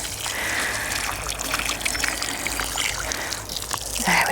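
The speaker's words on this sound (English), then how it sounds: "I'm also going to give it a bit of a water." Water from a watering can poured onto moist garden soil before planting peas, a steady close trickle and splash running throughout.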